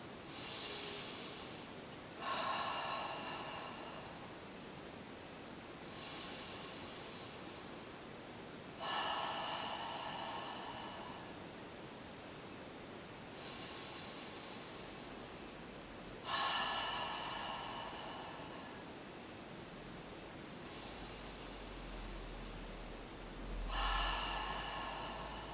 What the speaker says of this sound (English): Inhale through the nose and exhale through the mouth.